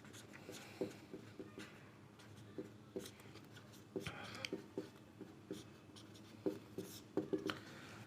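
A pen scratches on paper during a geometry theorem lesson, quiet close strokes in short irregular bursts, with no talk over them.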